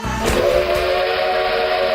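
A train whistle effect sounds on a sports radio broadcast, a loud sustained steady tone that holds for about two seconds after a brief rumbling start.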